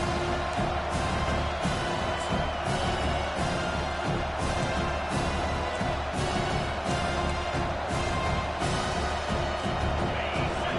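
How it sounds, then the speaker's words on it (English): Stadium crowd in a college football video game cheering in a low, steady roar beneath swelling bursts of noise, fairly faint and distant. "This crowd, full throat, spreading the eardrums and letting them know it's going to be a long day."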